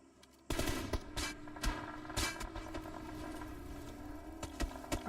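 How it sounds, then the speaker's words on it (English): Rapid bursts of video game gunfire crackle through an esports scrimmage match, with repeated sharp shots over a dense, steady background of game noise. "As they move into zone, they are taking shots from SNR."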